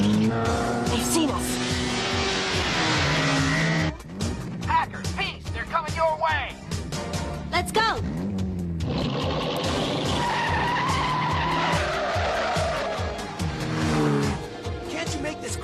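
A car speeds through an anime chase scene with screeching, skidding tires and a roaring engine, heavily mixed with music and sound effects, while voices shout over the action.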